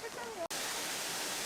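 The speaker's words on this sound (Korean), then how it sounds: "이곳은 계곡물을 이용해서 이렇게 돌을 쌓아가지고 폭포로 만들어 놨습니다." Valley stream water spilling over a stacked-stone waterfall makes a steady, full rushing wash; a voice speaks briefly at first before the broad roar continues alone.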